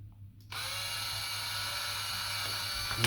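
Power drill with a 440 bit boring holes in a DualSense controller shell, a steady high whine that starts abruptly after a brief quiet moment and runs continuously, close and fairly loud.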